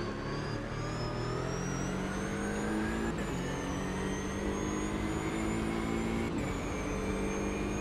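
A car engine runs steadily while driving, a continuous loud drone with tonal harmonics and slight pitch shifts, no talking.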